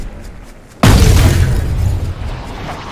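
A golf driver tee shot struck by Rory McIlroy in a PGA Tour video game at Wolf Creek: a sudden sharp loud impact followed by a sustained whooshing rush that slowly fades.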